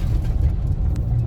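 Steady low engine drone and road rumble from a car being driven, a constant near hum filling the brief stretch with no distinct changes.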